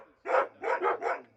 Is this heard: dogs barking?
yes